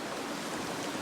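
A creek flows steadily nearby at a gold sluicing spot, a constant broadband wash of moving water with no pauses, moderately loud and unbroken throughout.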